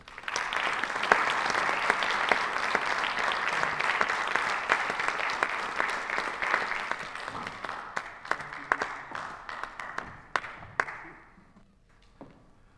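Audience applause at a museum talk welcoming a speaker to the stage: dense, steady clapping from a sizable crowd for about ten seconds, thinning into scattered individual claps before fading out.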